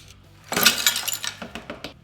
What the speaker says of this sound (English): So we're just going to destroy this mirror now.